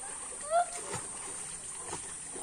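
Someone dips into a pond with a single near splash, followed by softer sloshing water against a steady background hiss, with talking nearby.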